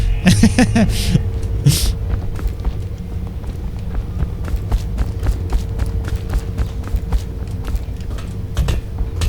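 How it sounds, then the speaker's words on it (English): Loud, thuddy sprinting footsteps in the video game Dishonored, a rapid run of heavy low impacts over a dense game background, with a brief voice-like sound near the start. "The sprinting footsteps seem super loud and super thuddy."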